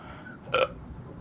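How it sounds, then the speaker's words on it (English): One short, sharp hiccup-like gulp from a person sitting around an evening campfire, brief and isolated against a low background murmur. "Is there that hiccup?"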